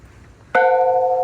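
A single bell at Greenwood Great House is struck once, a sudden loud ring that sustains with clear steady tones after a quiet start.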